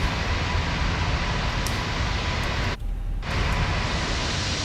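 An airliner in a flight simulator video game takes off down a long runway in Peru. A loud, steady engine roar with wide rushing noise fills the scene, briefly dipping partway before surging back.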